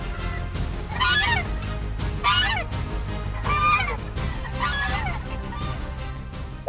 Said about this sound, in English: This goose did its best to be a bully, but decided it was probably easier to retreat.